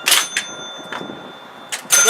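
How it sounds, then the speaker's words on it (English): A 1962 Gottlieb Fashion Show pinball machine rings its chime bells, with bright, sharp strikes at the start and again near the end and quieter rattling play in between. "I think there's 3 bells, and it hits it, makes a nice chime."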